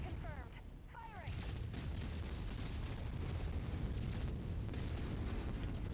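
Mech weapons firing in MechWarrior 5: Mercenaries, a steady roar of gunfire and explosive booms filling the battlefield, with a few short synthetic chirps early on and a continuous heavy rumble throughout.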